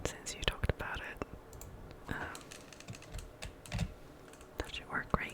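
Computer mouse clicks during play of a computer game, sounding as sharp, close, irregular taps scattered over soft whispered speech.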